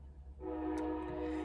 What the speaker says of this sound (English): I apologize about the train